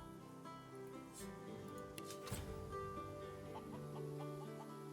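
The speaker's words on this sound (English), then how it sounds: "It's an undead chicken." An undead chicken in the video game Divinity 2 Original Sin clucks and squawks faintly in a steady run of short calls, partly buried under a busy, layered game soundscape of music and ambient noise.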